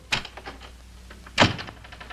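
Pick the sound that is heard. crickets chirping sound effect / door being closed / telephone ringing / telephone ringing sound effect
door being closed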